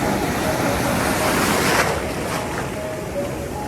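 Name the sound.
ocean waves hitting the speaker in the water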